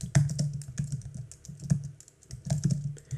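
Fingers type on a computer keyboard in a steady, close run of key clicks with brief pauses, a few heavier strokes like the space bar standing out, with no talking.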